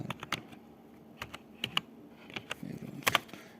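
Quiet, quick tapping on a computer keyboard while typing a search into Canva, keystrokes coming in uneven bursts with brief pauses, close and fairly soft.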